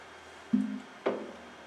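A single bell-like guitar harmonic at the 12th fret rings out clearly, then a second brighter plucked note follows, both decaying quickly in a quiet room.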